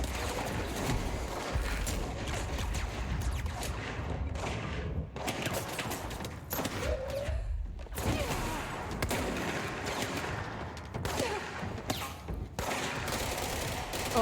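Rapid gunfire in the video game Control crackles in dense bursts, loud and close, with brief pauses between volleys and no talk over it.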